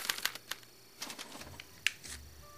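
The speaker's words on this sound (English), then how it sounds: "they're relayed to this special typewriter, which prints out a punch card that represents the subject's mind map" Typewriter in the Back to the Future video game printing out a punch card, heard as a quick run of sharp clacks and taps. Several separate strikes land over about two and a half seconds, moderately close and not loud.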